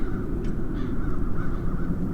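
Harsh crow caws sound in The Dark Eye: Chains of Satinav, a few rough calls over a dense, murky ambient drone, moderately close and without speech.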